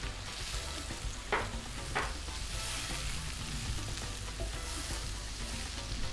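Chicken pieces sizzle steadily in a hot pan while a utensil scrapes and stirs through them with a couple of sharp clanks, a continuous close frying hiss with no talking.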